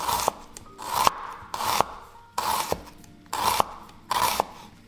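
A knife slices shallots thinly, about 1.5 to 2 millimetres, for a mango salad: about six crisp, evenly spaced cutting strokes, close and alone.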